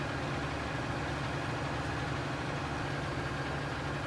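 A Massey Ferguson tractor, rated around 415 horsepower, runs steadily in Farming Simulator 19, its engine holding a constant low idling drone with no voices over it.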